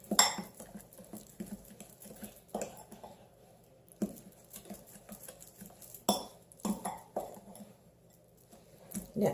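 A utensil stirring batter with an egg in a bowl gives soft, intermittent scraping clinks and wet squishes, close and quiet with short pauses.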